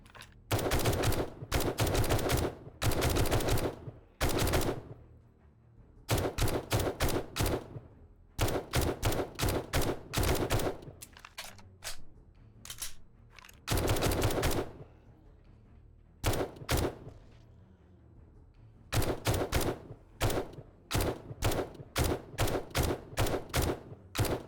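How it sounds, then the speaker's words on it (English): Rapid bursts of BB gun fire in the survival game 7 Days to Die, loud repeated volleys of sharp shots with short pauses between bursts, no talking. "Shooting that guy with BBs."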